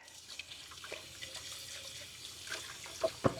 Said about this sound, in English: I'll get these jars washed up